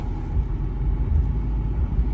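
A 2012 Ford F350 Super Duty XLT pickup's engine idles in a steady low rumble while the truck shifts into four-wheel drive, close and continuous with no voices.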